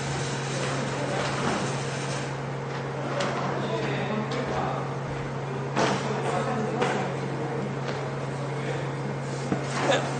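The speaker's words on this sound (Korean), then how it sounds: "제습기 소리도 나고 하는데 큰 지장은 없어요" A dehumidifier runs steadily in a room, giving a constant low hum with a broadband whir beneath scattered faint knocks and shuffles, with no one speaking.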